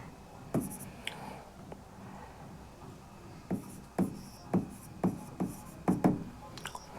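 Chalk or marker tapping and scraping on a classroom board during a physics lecture, a run of sharp, close strokes and taps in irregular bursts with quiet pauses between, no talking over it.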